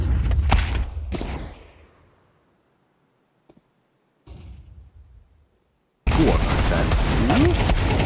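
Gunshots in the tactical shooter Counter-Strike, with a few sharp, loud reports close together at the start that fade into near silence, then a faint thud, before a dense burst of fire and action noise returns.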